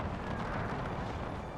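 Distant cannon fire from an 1866 Austro-Prussian War battle in a strategy war game, a faint, continuous rumble of far-off booms blended with battlefield noise and no voices.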